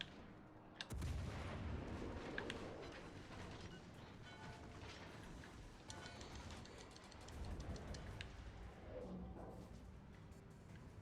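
Warship turret guns fire in World of Warships Legends, a heavy booming blast followed by rumbling, mechanical battle noise that continues for several seconds.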